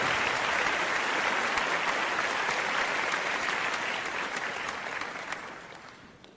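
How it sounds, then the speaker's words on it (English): Audience at a fundraiser breaking into sustained applause, dense clapping from many hands that holds steady then gradually fades toward the end, no voices over it. "Give yourselves a huge round of applause."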